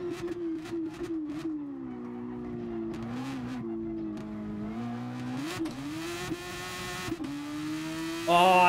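A Super Formula single-seater in GT Sport howls through a run at night, revving hard and dipping between shifts, its engine note rising and falling over several seconds with brief tire squeal toward the end, no voices.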